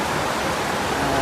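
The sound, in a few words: rushing flood water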